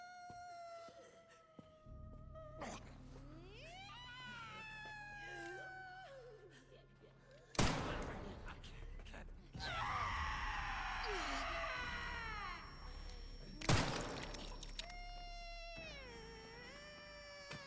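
A woman's high, piercing screams and wails in the video game Resident Evil Requiem, rising and falling in long strained bursts over a low ambient drone, with sharp loud impacts breaking in partway through.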